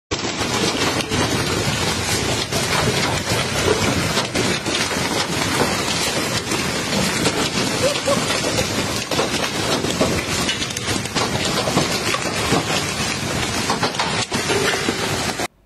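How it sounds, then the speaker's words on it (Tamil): Hail pours down in the Tujunga Canyon area of California, a dense, continuous loud hiss of countless ice pellets striking surfaces, unbroken and close throughout, with no voices. "அங்கே பனிக்கட்டி மழை பெஞ்சிக்கிட்டு இருக்குது"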